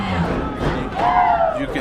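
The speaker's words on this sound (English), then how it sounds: "You can hear Bayless's crowd trying to get loud for their team there" The Bayless home crowd cheers and roars at a Friday night high school football game against DuBourg on 4th down near the goal line, a loud, brief swell of many voices under a commentator talking.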